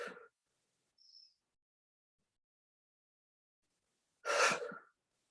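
Two audible breaths are separated by silence during a seated office yoga breathing exercise: a short, faint one at the start, then a louder, airy, sharp inhalation near the end.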